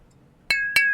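Two bright glass clinks ring out about a quarter second apart during a toast, each with a clear sustained ringing tail, loud and close against a quiet background.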